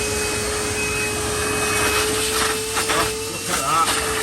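A workshop hoover (vacuum cleaner) runs steadily as a loud, close, continuous whine and hiss, with a few brief bursts of airflow toward the end.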